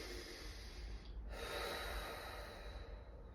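Slow, deliberate breaths drawn in and pushed out through the nose during a core exercise, soft airy rushes of air heard up close and quietly, with a brief pause between them.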